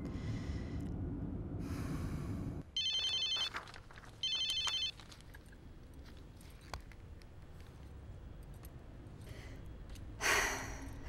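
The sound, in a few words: telephone ringing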